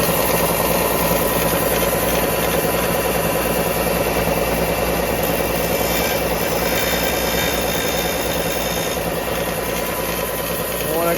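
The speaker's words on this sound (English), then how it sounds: "So we're going to modify these by grinding away at the end a little bit." Continuous harsh grinding as a rotary tool wears away the ends of hot-glued tracers, a steady high-pitched whine with a rasping texture held evenly close-up for over ten seconds without a break.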